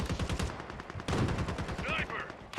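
Video game gunfire in rapid bursts of automatic shots, sharp and dense, trading back and forth with a few louder single cracks, while voices speak over the shooting.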